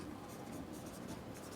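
A pen scratches across paper in short, quick strokes during a math lesson, faint and close, with no voice over it.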